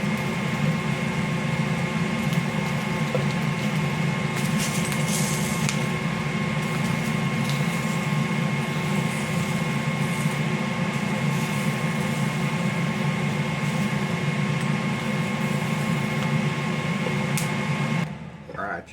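A kitchen vent hood fan runs steadily over a stovetop where peppers are being scorched, a constant whirring hum with a tonal whine, loud and unbroken until it cuts off abruptly near the end.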